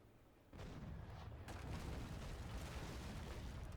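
Ship cannons in the naval game Naval Action fire a volley, a sudden loud burst of deep rumbling booms that continues as a dense, sustained roar with no voices.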